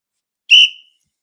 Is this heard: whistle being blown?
yes